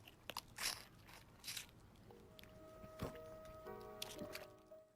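Someone chews a dumpling, wet and gristly, with quiet close bites and crunchy squelches in uneven bursts over a few seconds, faint overall and with no speech.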